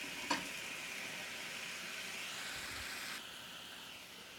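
Chicken stock sauce with thyme simmering gently in a pan over reduced heat, a soft steady hiss and light bubbling rumble running throughout, with one brief sharper crackle near the start.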